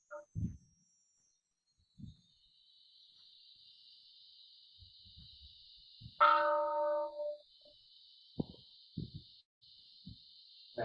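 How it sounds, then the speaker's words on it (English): Meditation bell struck once at the close of a sitting session, a clear ringing strike that rings out and fades over about a second, set among faint room rustles and a steady high hiss. "The bell was nice at the end there."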